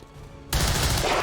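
Sudden loud burst of gunfire in XCOM 2, a rapid fusillade erupting after a quiet lead-in and sustaining dense, close shots to the end.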